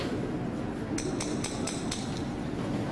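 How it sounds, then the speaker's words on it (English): A metal hammer head strikes a metal nail five times in an even rhythm, each hit a bright, ringing clank, heard close over a loud, rumbling background hum. "The sound of the metal head of the hammer hitting the metal of the nail."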